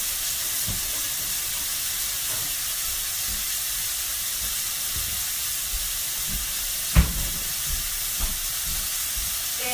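Chicken sizzles steadily in a frying pan, a dense continuous hiss with a few brief clicks and taps partway through, no voices.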